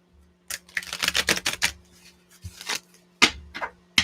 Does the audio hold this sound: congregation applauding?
no